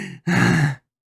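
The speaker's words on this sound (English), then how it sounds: "You gasp loudly, shaking the very room" A single loud, sharp gasp, a brief catch of breath followed by a long breathy intake, close and isolated before silence.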